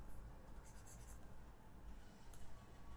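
Chalk or marker scraping across a board during a GST tax lecture, a steady quiet scratching with short brighter strokes, faint against background hiss.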